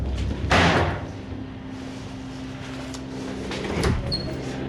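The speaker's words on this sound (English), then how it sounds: "That was definitely this door." A door slams shut indoors during a paranormal investigation, one sharp bang early on, then a quieter knock or thud a few seconds later over a low steady hum.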